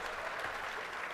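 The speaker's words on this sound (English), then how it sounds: "जैसे उन्होंने ताली बजा दी" An audience at a debate breaks into brief clapping, a dense, fairly quiet patter of many hands heard from a distance.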